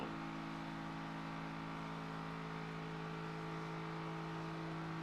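A car engine runs steadily while driving in the survival game Project Zomboid, a right-hand-drive car: a continuous low droning hum with a constant pitch, close and even throughout.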